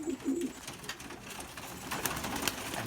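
A racing pigeon held in the hands coos in a few low soft bursts near the start, then light handling rustles and clicks follow in a quiet loft.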